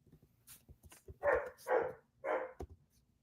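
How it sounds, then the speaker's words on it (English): A dog barks three times in quick succession at close range, with faint knocks and rustles in between, and no voices. "Yeah, well, the dog agrees with me"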